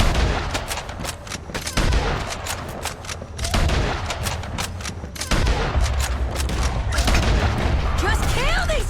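Rapid bolt-action rifle shots boom out in Red Dead Redemption 2 gunfights, loud sharp cracks repeating with short gaps and echoing across the scene, mixed with other distant gunfire and a voice talking in the background.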